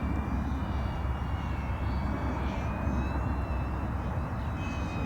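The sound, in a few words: iFlight Defender25 4S FPV drone flying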